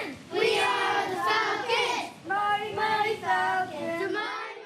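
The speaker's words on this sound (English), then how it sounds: "These young 7- and 8-year-old hockey players cheering loudly" A group of young 7- and 8-year-old hockey players chants and cheers loudly together in a TV studio, rhythmic shouted voices in unison with brief pauses between phrases.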